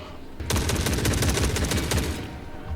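Rapid sustained gunfire from an unmodded M4 rifle in the video game The Forever Winter, a dense burst of automatic shots starting abruptly and rattling loudly and continuously for over two seconds.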